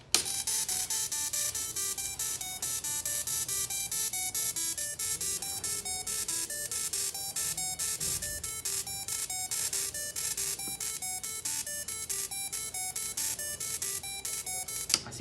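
A musical Tesla coil driven by a flyback transformer buzzes out a fast electronic melody of sharp, evenly spaced notes, loud and continuous for about fifteen seconds without a break.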